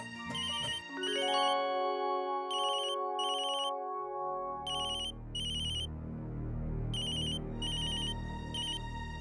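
A phone ringtone plays in repeated electronic bursts for an incoming call, with a sustained musical tone underneath; loud and close, no talking.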